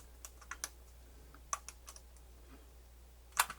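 Faint, irregular mechanical clicks from a MiniDisc player's disc mechanism, with a nonworking display and the sled stuck out of position, scattered sparsely with a sharper double click near the end.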